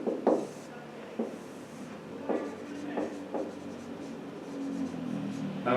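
A pen scratches across paper in short strokes and taps while ruling a table of forces and moments, close and fairly loud, with pauses between lines.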